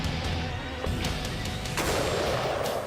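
Police handguns fire at a firing range at the Tower of London: a few sharp, loud shots cracking out at irregular intervals over a constant background rumble.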